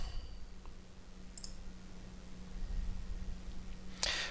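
A computer mouse clicks in a quiet room against a steady low electrical hum: a couple of faint small clicks early on, then one sharper, louder click near the end, with no one speaking.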